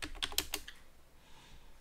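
A quick run of computer keyboard keystrokes, several sharp close clicks in rapid succession that stop after under a second, leaving quiet room tone.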